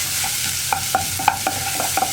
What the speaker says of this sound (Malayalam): ഒരു പാനിൽ കുറച്ച് സൺഫ്ലവർ ഓയിൽ ഒഴിച്ചിട്ടുണ്ട്. ഇതിലേക്ക് നമ്മൾ ചോപ്പ് ചെയ്ത് വെച്ചിരിക്കുന്ന വെളുത്തുള്ളി